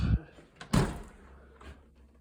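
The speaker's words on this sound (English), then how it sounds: "here's the door going into the third floor. And we're going to open up." A door to the third floor of a club room is handled and opened: two solid clunks of the latch and door close together, then a fainter knock as it swings, heard nearby in a quiet space.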